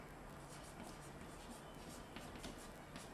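Pen writing a word during a Hindi class lesson, faint scratchy strokes in a soft repeated rhythm, quiet and close with no talking.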